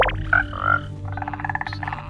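Frogs in the Minecraft video game croak in a few short, close, tonal bursts, forming a quick irregular series of low, throaty calls.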